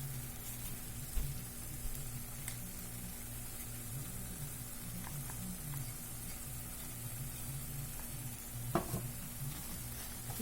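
Masala for stuffed brinjal curry sizzles in a pan with occasional spoon scrapes and clanks, a soft continuous frying hiss throughout, close and fairly quiet.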